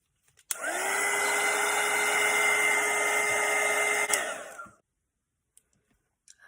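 A hair dryer blows on a watercolour painting of frosty holiday berries, switching on with a click into a loud, steady whir that runs for about four seconds before cutting off, followed by a few faint taps.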